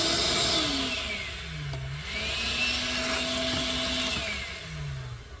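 A cordless Ryobi 6 gallon wet/dry shop vacuum runs steadily and loudly, its motor whine wavering in pitch as debris is sucked through the hose.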